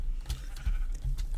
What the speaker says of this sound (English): there's just a bunch of shaved sheep